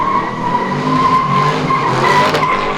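A car spinning donuts produces a loud, continuous tire squeal with engine roar underneath, sustained without a break close to the listener.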